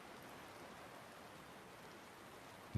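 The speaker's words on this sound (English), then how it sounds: "the rain slowly begins to become not only heavier" Steady rain falls in a soft, even hiss with no letup, faint and distant, ending in a single low thump.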